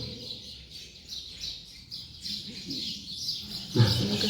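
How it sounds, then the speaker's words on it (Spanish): Small birds chirp in a series of short, bright, repeated tweets at a moderate distance, over a low background murmur, with a louder thump near the end. "Son los pajaritos."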